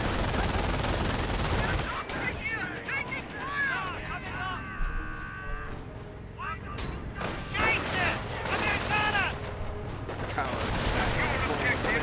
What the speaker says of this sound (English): Infantry 42 firing away.